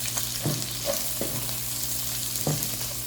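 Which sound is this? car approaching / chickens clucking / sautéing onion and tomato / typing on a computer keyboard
sautéing onion and tomato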